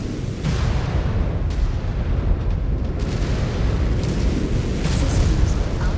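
Missile explosions in the video game MechWarrior 5: Clans, a dense, loud rumble of booming blasts that runs almost unbroken for six seconds, with sharper bursts standing out along the way.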